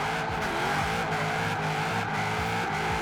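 Holden Commodore Group A with a 1000 hp drift build sliding in Forza Horizon 4, tyres squealing continuously over a loud, steady engine roar with rhythmic swells in pitch, no speech.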